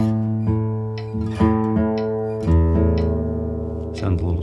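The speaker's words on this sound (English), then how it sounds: "And then the low E string." An acoustic guitar's low E string is plucked several times during tuning, each note ringing out loud and close with rich sustained overtones before the next pluck.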